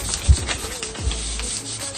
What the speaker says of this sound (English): you need to rub the kinesiotaping to activate the adhesive tape